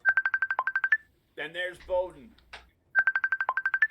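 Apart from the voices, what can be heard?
Facebook call ringtone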